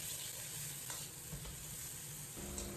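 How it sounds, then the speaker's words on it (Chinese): Minced garlic, chopped scallion and green and red chili strips stir-fried in a wok for sour-spicy shredded potatoes, a steady close sizzle with a few scraping stirs and a brief clatter near the end. "简单翻炒扒拉1-2下"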